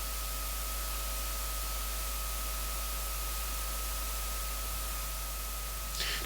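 A steady hiss of white noise from an analog drum machine's noise module, continuous and even, with faint mains hum beneath, no voices.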